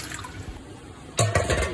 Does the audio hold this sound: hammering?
no